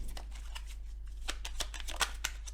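Tarot cards riffled and drawn from the deck: quick papery flicks and slaps in uneven bursts, close and moderately loud over a steady low hum, no talking.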